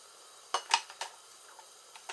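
Kitchen scales are set down on a counter with a few light clattering knocks and taps, separate sharp hits in an otherwise quiet room.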